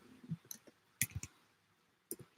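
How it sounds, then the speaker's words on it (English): Faint, sparse keyboard clicks from slow typing, coming in small irregular clusters separated by quiet gaps. "my typing skills are kind of slow"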